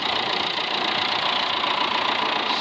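A tractor engine idles steadily at close range, a continuous broadband mechanical drone with no change in pitch or level, no voices, found sitting in the weeds.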